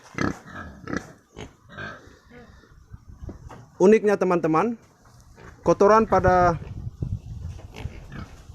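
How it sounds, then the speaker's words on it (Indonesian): Pet pigs in an 8 by 5 metre pen on a konjac farm give loud, harsh squeals in two bursts, close by, while someone talks over and between the calls. "Dan inilah babi peliharaannya Bapak Chlodophycus."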